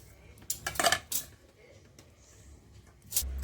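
Roasted seeds and salt are shaken through a perforated metal sieve over a pan, giving a quick cluster of rattling, clinking metallic scrapes followed by a few fainter taps, close and fairly quiet.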